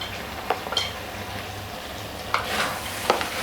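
Spices are stirred into daal karela sizzling in a pan, a soft steady fry with a few sharp scrapes and knocks of the spoon against the pan, close up with no talk.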